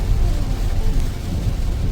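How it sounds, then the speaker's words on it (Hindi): Very heavy rain drums on a car during a road trip through Bastar under a red alert, a dense, loud, steady roar filling the cabin with no one speaking. "बहुत तेज बारिश हो रही है यहाँ पे, इतनी तेज कि वाइपर फुल स्पीड में चल रहा है"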